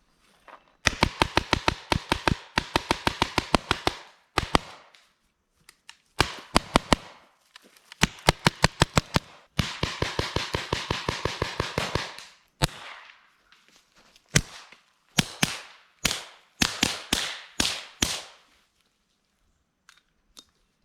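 Paintball gun firing rapid bursts of cover fire during a paintball tournament round, sharp snapping shots in fast volleys separated by short pauses, loud and close, with a few single shots near the end.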